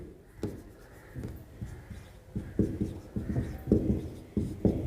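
Chalk or marker writing on a board during a chemistry lesson on acids and bases, a series of close scratchy strokes and taps that grow busier and louder, with no talk over them.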